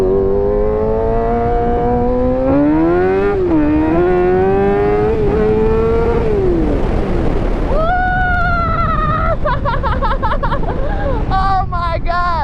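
A new 600cc sport bike engine screams past 10,000 rpm, rising and falling in pitch through repeated rev climbs, then stuttering near the end, loud and close with voices mixed in.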